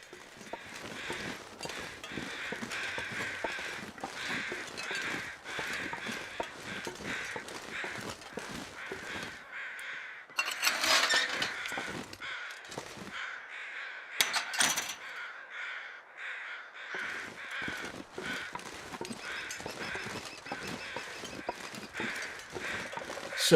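Crows caw in the snowy wilderness of the video game The Long Dark, with scattered harsh calls at a distance over a constant textured ambient bed that brightens briefly in a couple of spots.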